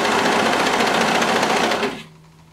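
A serger stitches stretch fabric for a Ferri bodysuit, a loud, dense, fast mechanical whir running steadily close up before cutting off, leaving a faint low hum.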